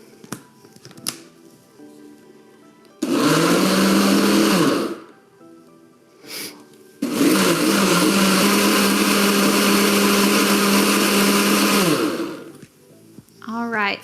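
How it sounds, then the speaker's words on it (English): Two loud bursts of a blender whirring through a vanilla whey protein smoothie, a short pulse of about two seconds and then a longer steady run of about five seconds, with quieter gaps between them where faint talking can be heard. "once our blender is done blending our smoothie"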